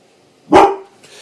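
A single sharp dog bark rings out nearby indoors, loud and brief, followed by a softer faint noise and then quiet.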